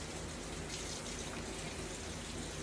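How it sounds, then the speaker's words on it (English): Water rushes and swirls inside a cooking blender during a heated wash cycle, a steady, even gushing noise that stays faint and constant throughout with no talking. "I'm going to show you guys the heated wash"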